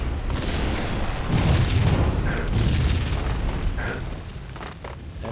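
Loud, rumbling explosion in the Max Payne game, a long, heavy roar with crackling debris that swells and slowly fades over several seconds, with no talk.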